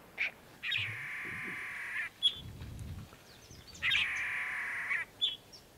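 Frigatebirds at a nesting colony with chicks give two long, harsh, honking calls, each about a second and a half, with short squawks between them, fairly close and clear.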